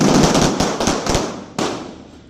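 Handgun shots fired on a firearms qualification range, several sharp loud reports with echoing decay, the last crack standing apart from the earlier cluster.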